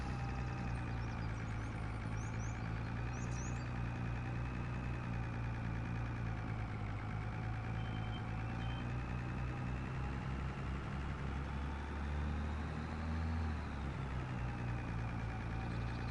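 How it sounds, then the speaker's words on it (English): A tractor engine in Farming Simulator 25 labouring up an incline, a steady droning rumble that holds throughout with a slight shift in pitch near the end. "We are testing the tractor."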